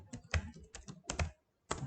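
Quick, close clicking of computer keyboard keys in short irregular bursts with a brief pause near the end, no talk over it.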